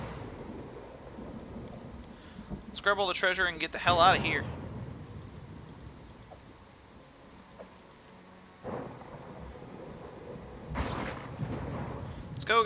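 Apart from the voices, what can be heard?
thunderstorm in the video game Pathfinder: Kingmaker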